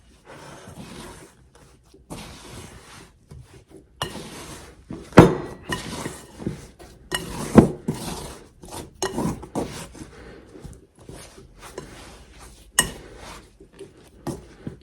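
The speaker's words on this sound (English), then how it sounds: "it's just easier to go in with my hands and mix it the rest of the way" Sourdough dough being mixed by hand in a bowl, with close, irregular sticky squelches, rubs and scrapes that come in bursts between short pauses, no talking.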